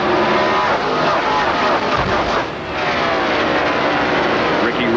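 Loud, continuous roar of NASCAR Winston Cup stock car engines accelerating out of turn one in the 1997 Brickyard 400 at Indianapolis Motor Speedway, dipping briefly midway, with a commentator talking over it.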